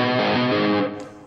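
Distorted electric guitar note with wide three-fret vibrato, a loud sustained tone whose pitch wavers in broad, slow bends before cutting off after about a second.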